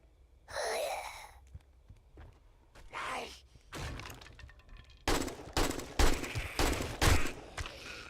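Gunfire in the 7 Days To Die video game, scattered shots early on, then a rapid burst of sharp cracks in the second half, with voices and breathy sounds mixed in.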